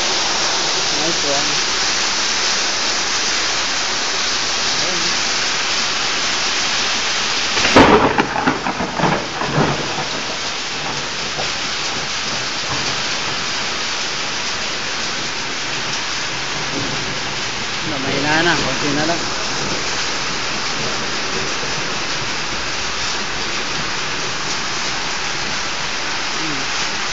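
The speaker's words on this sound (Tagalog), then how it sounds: "Dito sa Middle East, nagkaroon ng pagulan ng yelo" Heavy hail and rain pounding down in Abha, Saudi Arabia, a dense loud wash of falling ice and water with a sharp thunderclap rolling off around a third of the way in and fainter rumbles later.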